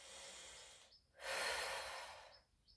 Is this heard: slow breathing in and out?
yes